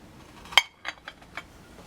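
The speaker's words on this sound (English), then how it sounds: "take a spoon, go ahead, dip your guacamole right in to a nice serving bowl" A spoon clinks against a serving bowl as freshly made guacamole is scooped in, one bright close clink followed by a few softer taps and scrapes, no talking.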